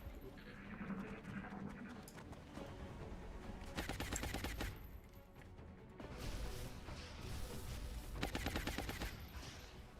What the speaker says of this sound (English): He's shooting at the mech.